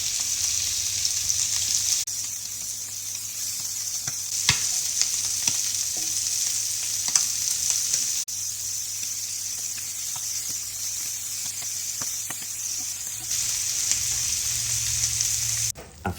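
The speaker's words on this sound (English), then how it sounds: "After the quick sear in the pan and finishing them off with butter" Flour-dusted doughboy scallops searing in a hot pan give off a steady, bright sizzle with occasional pops and crackles, rising and falling slightly in intensity as they cook, heard alone and close.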